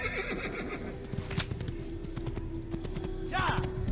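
A horse in Assassin's Creed whinnies and its hooves clip-clop on the ground, repeated hoof beats under a continuous low drone, with a sharp rising neigh near the end and a voice talking over it.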